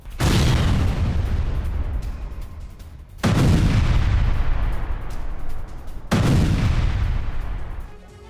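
Three heavy, booming blasts from explosives planted in a tunnel in Rafah, each one a sudden loud crack that rolls into a long rumbling decay, spaced about three seconds apart with no voices.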